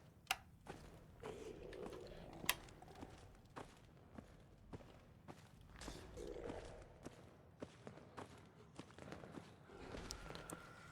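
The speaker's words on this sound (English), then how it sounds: "we've got some slow, shambly footsteps" Slow, shambling zombie footsteps in Fallout 4, irregular soft thuds and scuffs spaced across the stretch over a low ambient hum, at moderate distance.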